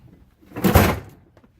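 A drawer for air tools in a home workshop is handled, giving a single muffled thunk with a short scraping slide around it, close by and alone.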